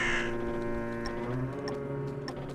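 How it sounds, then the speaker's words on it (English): A bird caws in the video game Drake Hallow, a short harsh call at the start over a steady droning game background with faint ticking clicks. "So now we're going to interact with the bird."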